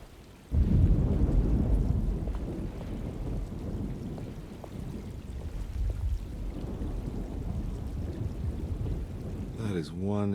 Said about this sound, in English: Just keeping an eye out for the storm. Radio says it could be a wild one.